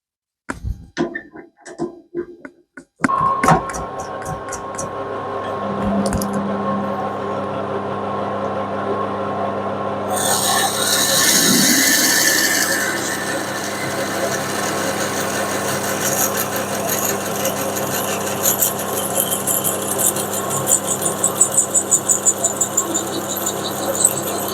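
A drill with a bigger bit runs at about half speed while machining a rear cylinder cover, giving a steady mechanical whine and hum after a few short starts, with a brighter, louder grinding stretch partway through.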